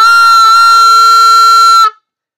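A single sustained oboe B-flat, bright and reedy with rich overtones, held steadily for nearly two seconds before stopping abruptly into silence.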